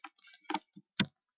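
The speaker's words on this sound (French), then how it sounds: "tapons sur la flèche descendante du clavier" Arrow keys on a computer keyboard are pressed, producing several crisp, close plastic clicks in quick, uneven succession, with short silences in between.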